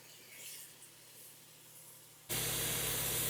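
Sliced onions and three peppers sizzle in hot cooking oil and olive oil, a soft hiss that suddenly swells into a loud, steady crackling sizzle as the peppers hit the pan, with no talk.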